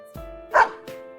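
A dog in the video game Persona 4 Arena Ultimax gives a single short, clear bark set between softer tonal game sounds, close and distinct.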